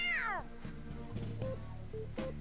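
A cat in Persona 5 Royal gives one clear, loud rising and falling meow at the start, followed by quieter game music and soft tones, with no talk.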